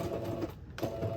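A sewing machine whirs in short bursts as it zigzag stitches elastic onto a ribbon skirt, pausing briefly in the middle before running again, close and moderately quiet.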